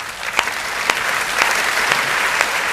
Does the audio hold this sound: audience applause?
yes